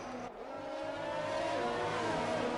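Racing cars roar around the Austria circuit in an F1 racing video game, with a steady high engine whine that rises as a car accelerates, heard at moderate volume with no talk.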